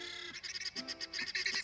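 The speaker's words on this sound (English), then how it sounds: "I don't know what bird it is, but it's loud though." A loud bird calls close by in a run of quick, honking, goose-like notes repeated in a choppy rhythm.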